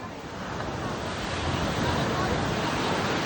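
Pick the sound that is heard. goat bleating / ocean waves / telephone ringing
ocean waves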